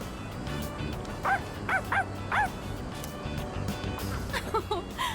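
Koromaru, a dog in the video game Persona 3 Reload, gives a series of short yips and barks in two clusters over quiet background game music, moderately close and not loud.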